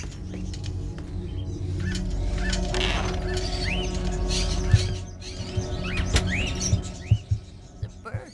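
A caged songbird in the video game Indigo Prophecy chirps in short, repeated whistled phrases over a steady low in-game hum, the calls growing sharper and more distinct toward the end.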